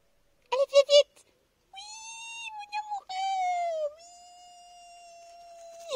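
A cat meows several times in a quiet room: a quick cluster of short chirping cries, then longer drawn-out, wavering meows that slide in pitch, close and clear against silence.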